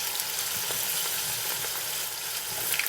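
Fries dropped into hot oil in a pan for WingStop-style fries sizzle in a steady, dense, hissing crackle, close and continuous with faint pops and no talking.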